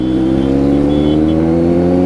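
A motorcycle, a 390, revs and passes close by, a loud steady engine drone with harmonic whine, heard alone.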